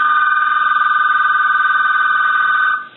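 An AT&T 1509 answering machine telephone rings with a loud, steady electronic trill sounding alone for nearly three seconds, then cutting off abruptly.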